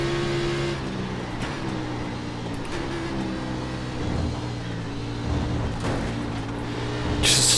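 A NASCAR Xfinity race car in iRacing at Watkins Glen, driven hard with a steady engine drone that shifts pitch as it accelerates and brakes, ending in a louder burst.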